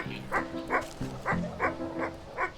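A dog in the video game Wytchwood gives a string of short barks and yips, about seven evenly spaced calls over a couple of seconds, clear and close with no speech.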